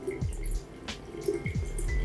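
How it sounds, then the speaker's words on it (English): Water pours into a bottle from a water ionizer machine, a soft continuous trickle with faint dripping and splashing, fairly close and moderately quiet, with no talking. "now we are pouring this water in this bottle that you can see"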